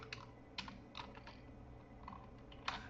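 Quiet, close typing of JavaScript code on a computer keyboard, a sparse run of individual key clicks with irregular pauses and a sharper tap near the end.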